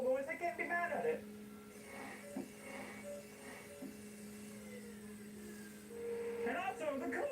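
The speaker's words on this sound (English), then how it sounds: "powered by an electric power steering pump, which does make a lot of noise" Electric car's electric power steering pump whining with a steady tonal hum, heard under a person talking at the start and end.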